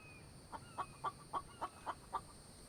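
Chicken clucking in The Infected survival game, a quiet run of seven short, evenly spaced clucks over a faint steady background hum.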